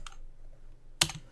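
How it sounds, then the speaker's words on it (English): Keystrokes on a computer keyboard: a faint click near the start, then a louder, sharper burst of key presses after a quiet gap, with no voices. "we're going to hit the hash key on this keyboard"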